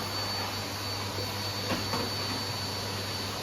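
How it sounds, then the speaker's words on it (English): A vacuum cleaner runs steadily while hoovering a household floor, giving a constant whining drone with a low hum, fairly faint and uninterrupted. "I told him to hoover around the edges, because normally he just hoovers in the middle"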